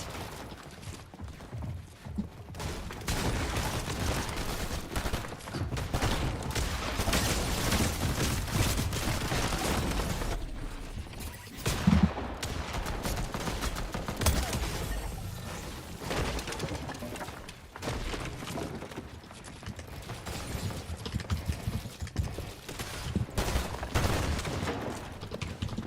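Shotgun fire and gameplay action in Fortnite: dense, continuous mechanical clatter and repeated gunshot bursts, loud and busy throughout with a brief lull near the middle.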